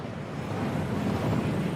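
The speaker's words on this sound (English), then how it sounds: "That waterfall washes away all enchantments." Heavy rushing water of a waterfall at Gringotts in the game Hogwarts Legacy, a steady dense roar with no break, fairly close and loud.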